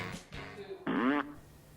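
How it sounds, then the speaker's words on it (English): A remote-controlled fart speaker plays a loud, close, buzzy fart, a short sputter leading into a strong rasping blast that lasts about a third of a second and then cuts off. "I put the fart speaker in place, then took the remote control"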